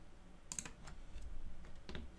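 Quick mouse clicks on a computer while accepting a solid-piece merge in Meshmixer, modeling a custom wrestling figure. The clicks come as a few soft taps, close and quiet, with no voices.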